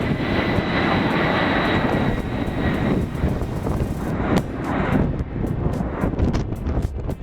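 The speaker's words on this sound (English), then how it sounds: "The Space Shuttle Enterprise was carried atop a NASA Boeing 747 in a scheduled flyover of New York City." A NASA Boeing 747 carrying Space Shuttle Enterprise flies over New York City, its jet engines a loud, sustained roar that shifts as the aircraft passes overhead.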